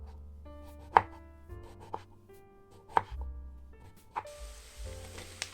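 A knife chops fresh red tomatoes on a board, with several crisp strikes landing about once a second over faint steady background tones.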